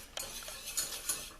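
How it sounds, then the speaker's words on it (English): A metal, uncoated whisk stirs roux in a stainless, non-coated pan for mac and cheese, giving soft repeated scraping and light clinks with a few sharper taps, close and fairly quiet, no talking. "Notice that I'm using a whisk, and mine is not a coated whisk because I'm not using a non-stick pan"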